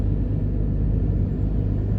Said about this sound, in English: on the left where that car just drove